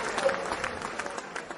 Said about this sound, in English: So you deserve some applause.